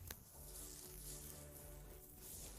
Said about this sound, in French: Il y a beaucoup de mouches ici.